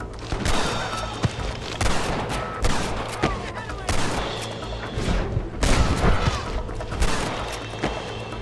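Gunfire in the Red Dead Redemption video game, repeated loud shots and bursts cracking at irregular intervals over a busy layer of game noise, with a voice talking now and then.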